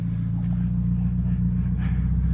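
A lifted Mazda Miata engine idles and rumbles steadily, loud and close, as the car is driven off, with a low continuous drone and no clear talk.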